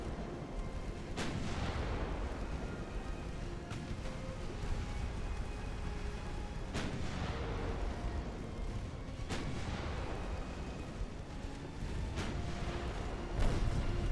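Heavy 9-inch naval guns firing in Ultimate Admiral: Dreadnoughts, a game naval battle, with loud booming shots at irregular intervals over a constant rumbling battle din.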